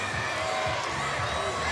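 A steady wash of spectator crowd noise at a wheelchair tennis bronze medal doubles match in Paris, a continuous murmur with faint cheering and a voice over it.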